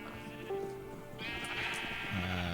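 Sheep bleating on a farm in a video game, several wavering nasal calls following one another in close succession, clear and fairly near.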